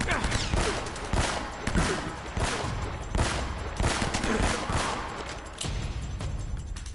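Gunfire in the Uncharted video game comes in a loud, dense fusillade of repeated shots and bursts that carries on for several seconds, with near blasts rising over a constant din of battle.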